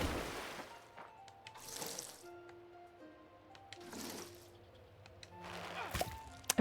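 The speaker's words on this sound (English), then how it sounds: "Gotta water all of our flowers." Watering flowers with a watering can in the farming video game Fae Farm: repeated splashy pours of water come in several bursts, mixed with soft game tones and little thunks, and no one talks.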